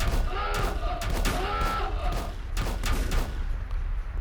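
Automated turrets in the video game Volcanoids fire in dense, overlapping rapid bursts of gunfire, loud and continuous, with a warbling tonal sound mixed in among the shots.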